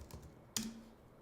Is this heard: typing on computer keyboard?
yes